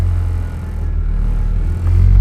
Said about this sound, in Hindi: जैसे ही हम इसको हल्की रेस देते हैं तो आप लोग देख सकते हैं गाड़ी के अंदर एक अजीब सी वाइब्रेशन है